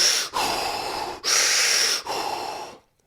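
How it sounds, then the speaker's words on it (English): Three long, forceful breaths of rapid overbreathing, a recovery technique for boxing and MMA, loud and close with brief gaps between each rush of air. "Breathe the hell out of your system."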